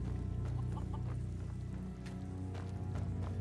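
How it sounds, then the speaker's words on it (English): A chicken in the video game Enderal clucks in short repeated bursts over steady droning game ambience and music. "There is a chicken."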